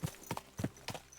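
Horse hooves clip-clopping in Kingdom Come: Deliverance 2, a steady four-beat walking rhythm of clear, close thuds repeating through the clip with no talk over them.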